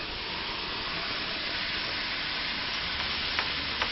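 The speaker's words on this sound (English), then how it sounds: "And then we want to steam it so that the cheese melts nicely" Food steaming in a hot pan to melt cheese, a loud, continuous hiss and sizzle that stays even throughout, with a few small crackles near the end.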